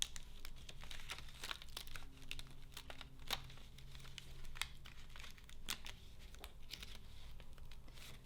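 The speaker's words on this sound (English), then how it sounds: "just tear around it to make it easier, and then pull out the excess so I don't tear off the little pods" Paper eucalyptus pods being torn out of a kit sheet, faint close crinkling with sharp tearing snaps scattered through it, set over a low background hum.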